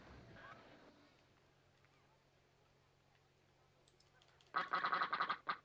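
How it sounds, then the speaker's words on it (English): A duck from the video game Rollercoaster Tycoon gives a loud burst of rapid, repeated quacks near the end, following a stretch of quiet ambient game noise. "Yeah, I got the duck."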